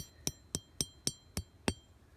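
A 4-pound hammer taps a coyote trap bed six times in an even rhythm, each a sharp, close metallic clink with a short ring.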